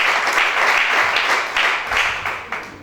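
Applause and cheering rise from a church congregation acclaiming Shaddai during a French-language sermon, a dense, steady wash of clapping and voices that swells in waves for a few seconds.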